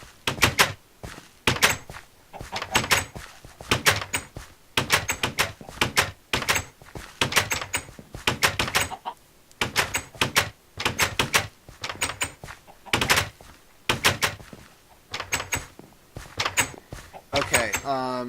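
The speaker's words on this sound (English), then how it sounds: "You enjoy slamming doors all day?" Doors slamming over and over in a video game, sharp loud bangs and thunks arriving in quick rhythmic clusters with short gaps, repeating throughout.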